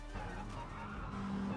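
Subaru WRX STI Isle of Man Time Attack car in Gran Turismo Sport at the Nordschleife, a steady droning engine with a faint tire squeal, holding constant and loud throughout.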